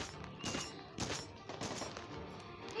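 Enemy gunfire in an apocalypse-themed zombie action horror game, including an AK rifle shooting from a distance: repeated sharp, loud bursts about every half second over a dense, continuous rumble of game noise, with no voices.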